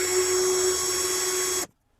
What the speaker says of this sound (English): I might just go ahead and hit it with the Dremel and try to enlarge it.